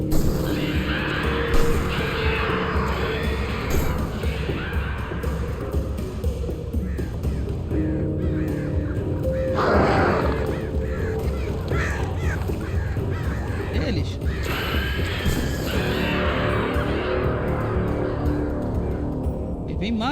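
Crows in Alan Wake Remastered caw harshly and repeatedly during a chase, loud and persistent over game music and effects, while a player talks throughout.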